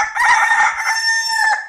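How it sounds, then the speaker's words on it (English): A rooster crows once, loud and near, in a clear, sustained, strained cock-a-doodle-doo lasting under two seconds, alone with no talk. "He thinks because he crows in the morning, the sun comes up."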